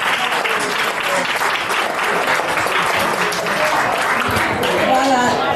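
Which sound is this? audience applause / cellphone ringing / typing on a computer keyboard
audience applause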